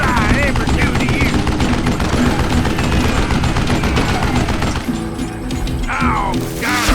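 Dense, continuous gunfire from the video game Call of Juarez, with loud overlapping shots and crashing impacts forming an unbroken wall of noise that thins briefly near the end.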